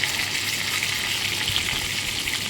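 Fish pieces sizzling steadily in a frying pan, a dense continuous crackle of hot oil, close and even throughout with no voices.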